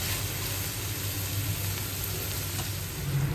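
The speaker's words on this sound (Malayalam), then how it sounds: "ആ സവാള ചെറിയ ഉള്ളി വഴന്നു വരുന്നതിൻ്റെ കൂടെ തന്നെ ഞാൻ കുറച്ച് കറിവേപ്പിലയും കൂടി ഇട്ട് കൊടുത്തു." Onions, shallots and curry leaves fry in hot oil for a beef roast, giving a steady, close sizzle that runs unbroken throughout with no voices.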